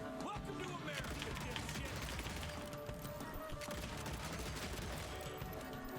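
Rapid fanned revolver shots from the Old West vampire-hunting game Evil West, dense bursts of gunfire crashing and booming continuously over a loud, busy game soundtrack.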